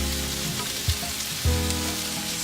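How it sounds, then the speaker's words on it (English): Garlic and oil hit a hot stir-fry pan, giving a soft, steady sizzle up close, broken by two brief thumps as ingredients drop in. "So now I'm gonna throw a bit more oil and some garlic."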